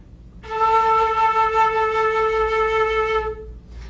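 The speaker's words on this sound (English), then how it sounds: "for example, we have the note A." A single sustained musical note A, a steady clean tone held for about three seconds, close and alone before it cuts off.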